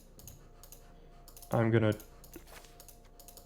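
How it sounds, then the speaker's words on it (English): A computer mouse clicks in quick, light bursts on a PC during a Magic: The Gathering draft, faint taps scattered before and after a short spoken phrase. "You probably heard me clicking recklessly to get that 6-drop"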